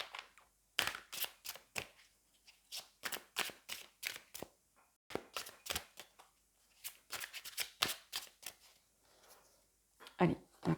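Tarot cards being shuffled in repeated quick riffling bursts, crisp and close, with short pauses between rounds and a voice speaking briefly toward the end.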